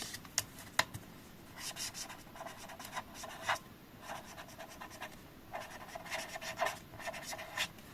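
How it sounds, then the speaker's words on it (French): Felt-tip marker writing by hand on paper for a scrapbooking project: quiet, intermittent squeaky strokes in short bursts with pauses between, close and soft, with no talking. "Je vais l'écrire à la main."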